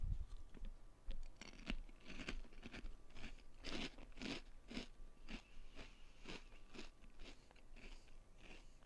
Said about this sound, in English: I must be crunching in the mic. My bad. I'm eating some chips.